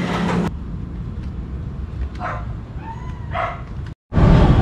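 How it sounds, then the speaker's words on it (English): A dog whines and yips in a dark residential alleyway in Cebu, the thin cries coming and going at a moderate distance over steady traffic rumble. "There's a dog whining on this side."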